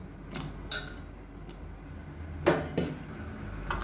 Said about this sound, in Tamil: இப்போ இது எல்லாத்தையும் நல்லா கலந்துடலாம்.